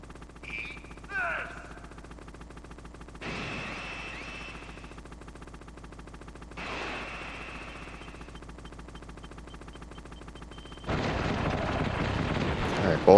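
Gunfire and explosions from a Hind helicopter boss fight in the PC version of Metal Gear Solid, heard as a few separate blasts and bursts of fire with quieter gaps between them, ending in a louder, sustained barrage.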